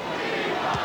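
A basketball crowd at Madison Square Garden during a Knicks home game against the Spurs in 1993 roars as a dense, steady wall of voices, with no single shout standing out.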